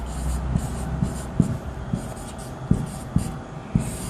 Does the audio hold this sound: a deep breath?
no